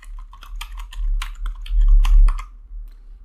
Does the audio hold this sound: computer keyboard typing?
yes